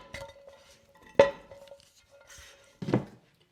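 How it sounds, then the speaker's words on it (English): Cooked sausage dumped into a 9 by 13 baking dish: a few close clunks and scrapes against the dish, the sharpest near the middle and another toward the end, with quiet gaps between. "all you're simply going to do is dump your sausage to the bottom of your baking dish"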